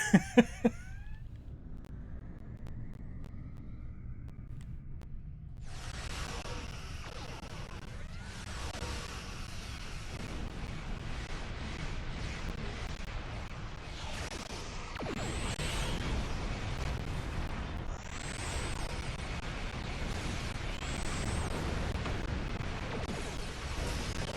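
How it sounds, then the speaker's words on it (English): A shredding weapon fires in Star Trek Online, Klingon Civil War, on PS5: a sustained, dense roar of energy blasts and explosions that swells partway through and keeps going, with sharp bursts at the start. "It's about to come around and use my shredding weapon."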